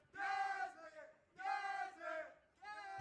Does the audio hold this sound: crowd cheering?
yes